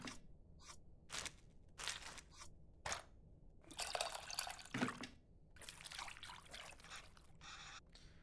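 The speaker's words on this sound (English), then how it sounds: "Looks like I have to mix the tamarind with the water to extract its essence multiple times." Water swishes and trickles in repeated short bursts as tamarind is mixed by hand in a bowl of water in the cooking game Venba, the splashes separated by brief quiet gaps, close and fairly faint.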